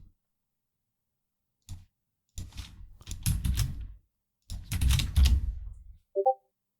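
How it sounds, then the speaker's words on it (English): Loud clacking of computer keyboard keys in two dense bursts of rapid strikes, separated by a short pause and ending with a brief sharper click. "Clack of the keys."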